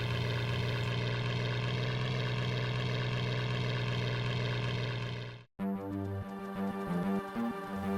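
A propeller airplane droning steadily in a third-person Amiga flight game, a dense continuous engine hum that cuts out abruptly near the end, then gives way to a different, more tonal game sound.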